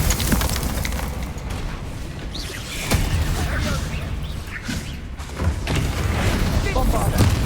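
Descendo spell slams in Hogwarts Legacy, landing as a few heavy booming impacts amid dense, continuous game combat noise, with the player's voice shouting spell names over the top.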